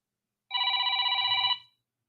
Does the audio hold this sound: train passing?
no